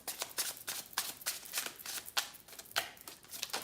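Tarot cards riffle and snap in quick bursts of crisp, papery clicks, shuffled close up and alone at a moderate level.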